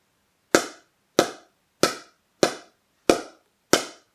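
Six sharp, evenly spaced pops from a pickleball struck with a polymer core paddle, each a quick dull crack that fades fast, close and alone with silence between hits.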